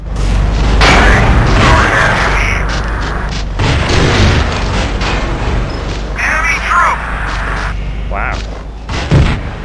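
C4 explosives detonate in Battlefield 2, with heavy booms and thuds amid battle noise and scattered gunfire, loud and dense, while a person talks over the action.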